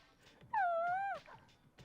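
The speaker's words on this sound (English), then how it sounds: "I just seem to have been bitten by a dog." A dog whimpers in Persona 3 Portable, one drawn-out, wavering whine lasting about half a second, fairly close and clear, with faint game sounds around it.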